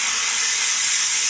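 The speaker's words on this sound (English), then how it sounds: "if you take a brass brush and you steam only and you very gently apply pressure with the steam" A steam cleaner blasts steam through a brass brush onto a glass shower door caked with soap scum and hard water buildup, a loud, constant, close hiss held without a break.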